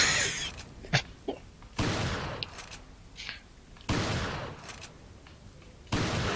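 Repeated bursts of gunfire in Resident Evil 4, loud broadband volleys returning every couple of seconds with brief sharp shots between them, no talking.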